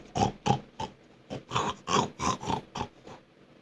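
A human voice imitates a pig grunting, giving a close series of about a dozen short nasal oinks and snorts in an uneven rhythm, with no other speech.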